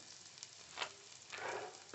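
Chopped carrot, beans and green peas with green chillies sautéing in a hot pan for vermicelli khichdi, giving a steady close sizzle and crackle with brief stirring swells, no voices.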